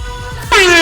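A loud air horn blasts to start a mini buggy off-road race, its sustained tone kicking in abruptly halfway through, with a low engine-like rumble underneath beforehand and no talking.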